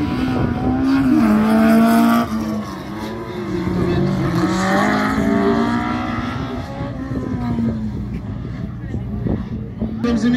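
A Fiat X1.9 launches on a slalom course, its engine revving hard and loud at first, then settling into a steady, droning run that eases as it pulls away. An announcer talks over the engine throughout.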